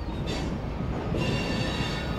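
Freight rail cars rolling onto a car float barge, giving a continuous heavy rumble of metal wheels on rails with squeals and clanking, loud and nearby, with no talking.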